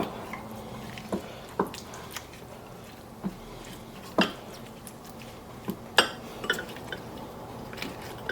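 Cut carrots and other vegetables are tossed in a pan or bowl, giving a string of light, scattered clinks and taps at irregular intervals, fairly quiet and close.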